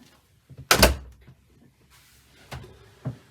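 Door to the heads compartment aboard a Winthrop Warner 33 Bermudan cutter sailboat, a close wooden clunk as it shuts, followed by two softer knocks and light rattles in a quiet cabin.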